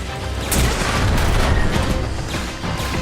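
A grenade goes off in Transformers: War for Cybertron, a heavy, loud explosion that rumbles on amid continuous battle noise and scattered blasts, with no talk.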